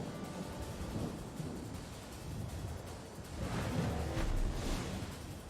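A thunderstorm rolls through a naval warship video game, heard as a continuous low rumble with rain-like hiss that swells louder toward the end.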